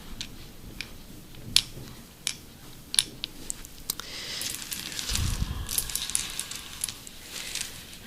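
Wooden Scrabble tiles handled up close, giving sharp, sparse clicks and light clacks at irregular intervals, followed by a soft rustling shuffle before the clicks return.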